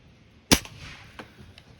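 A single sharp crack from a 2015 RWS Diana Model 34 Panther air rifle fired at a beer can, loud and near, with a faint metallic tick of the hit about half a second later, then quiet.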